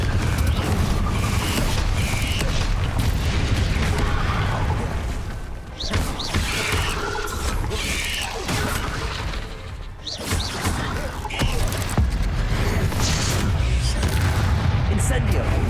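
Fire and blast spells from Hogwarts Legacy go off in rapid repeated booms and crashes on hard mode, dense and loud throughout, under a person's voice.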